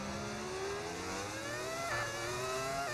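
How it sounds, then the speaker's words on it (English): V10 Formula 1 engine in the F1 25 video game, a sustained high-pitched whining wail that climbs and shifts steadily with a brief gear-change dip, heard alone and fairly loud. "How dare you slag off a V10 engine? This is what Formula 1 should sound like again."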